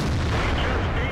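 Tank gun shot striking the player's tank in World of Tanks, fired by a T110E3, a single heavy booming impact that fills the short clip loudly.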